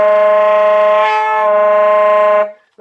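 A saxophone multiphonic fingered on low B flat with the second finger of the right hand raised: one loud, sustained, reedy chord of several tones held about two and a half seconds with a slight wobble midway, then stopping abruptly.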